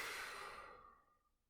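A single audible breath out during a seated stretch, a soft airy sigh that fades away over about a second.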